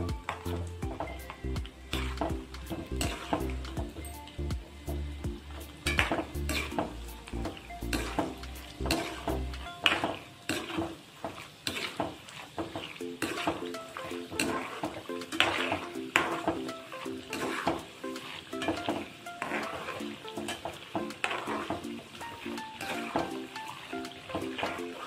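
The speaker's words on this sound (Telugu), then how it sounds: "మనం ముందుగా తీసుకున్న పల్లీలు, పచ్చెనగపప్పు వేసేద్దాం. ఇవి కొంచెం వేగాలండి." Peanuts and chana dal sizzle and crackle in a hot pan, stirred now and then with a steady frying hiss and light scraping, no voices.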